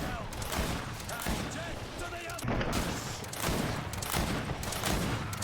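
Dense, continuous gunfire from the fantasy action game Greedfall: rapid overlapping shots and impacts fill the whole stretch, loud and busy, with faint voices mixed in.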